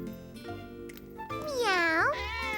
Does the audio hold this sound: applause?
no